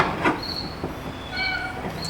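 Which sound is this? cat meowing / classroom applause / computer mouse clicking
cat meowing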